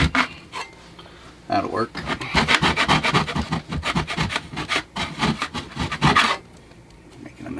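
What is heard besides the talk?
scraping old caulk off RV trim with mud knife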